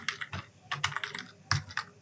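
Typing a ChatGPT prompt on a computer keyboard: quick close clusters of key clicks in short bursts with brief pauses between them, heard alone.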